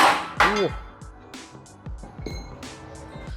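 Metallic clanks and knocks of a press tool working a ball joint out of a Toyota Innova Reborn diesel's suspension, several sharp hits with ringing metal, close and fairly loud, with brief talk in the workshop.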